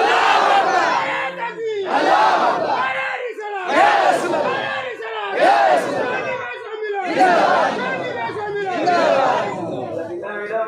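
Large crowd at a Sunni religious conference in Deoghar, Bangladesh, chanting takbir in loud repeated surging call-and-response waves, voices rising and falling in steady rhythm for the whole stretch.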